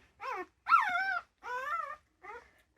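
Four-week-old Rottweiler puppies whine near feeding time: four separate high, wavering cries with short gaps between them, close and clear against silence.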